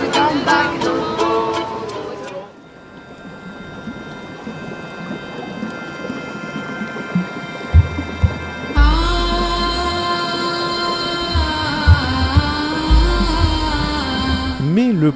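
Thunder rumbles overhead in a mountain storm while trekking in Ladakh, with rain pattering steadily throughout; deep low rolls build and swell near the middle and end, and music plays faintly at the start.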